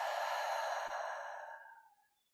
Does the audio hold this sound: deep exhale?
yes